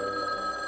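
A telephone bell rings steadily, a sustained electronic tone close by with no voices over it, for a cartoon scene.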